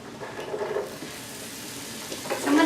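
Bacon grease heating in a skillet gives a soft, intermittent sizzle and hiss, faint crackles rising and fading, growing louder and brighter near the end as the fat gets hot.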